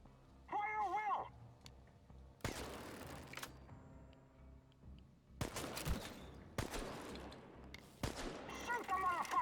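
Gunfire in the post-apocalyptic shooter Chernobylite comes in several sharp, loud bursts separated by brief gaps, with a short stretch of voice near the start and shouting mixed in toward the end.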